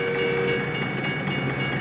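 A train rolls past, its steady rumble and rhythmic wheel clatter continuing evenly and at moderate distance throughout the short stretch, with no one talking.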